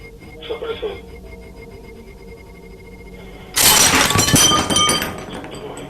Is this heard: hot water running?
no